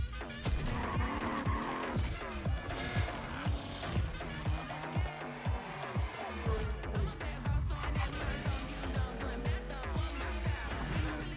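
Racing cars and tire skids in The Crew Motorfest, an open-world car festival game, mixed into a loud, dense trailer soundtrack with engines revving and tires squealing throughout.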